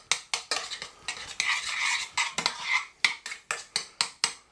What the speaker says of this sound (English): a little bit of milk, and then get it back on the heat and stir that.